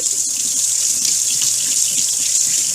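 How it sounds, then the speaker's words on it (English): Tap water runs steadily into a kitchen sink while hands are washed before cooking, a close, loud, continuous hiss of flowing water with no voices. "wash your hands really, really good"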